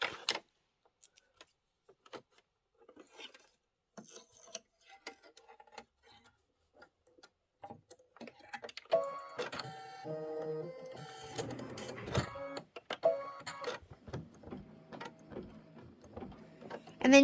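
An embroidery machine stitches a flower onto a hat in orange thread for a Kimberbell Candy Corn Quilt Shoppe witch project. Scattered faint ticks give way to a steady, close mechanical whirring and clatter of stitching that carries on to the end.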